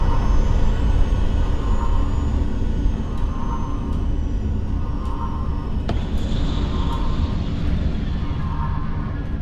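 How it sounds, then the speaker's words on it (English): A Viper fighter's afterburner in the space combat game Diaspora Shattered Armistice gives a loud, steady broadband roar with a thin whine above it. Faint periodic ticks run through it, and the roar shifts character about two-thirds of the way in. No voices. "Engage your afterburner to close within 150 meters of drone 2."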